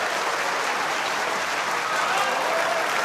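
A snooker crowd at the World Championship applauds a clearance, dense steady clapping filling the hall throughout.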